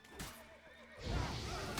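A white horse whinnying in The Witcher 3: Wild Hunt, one wavering neigh followed by a snort, fairly close and clear, with no talking over it.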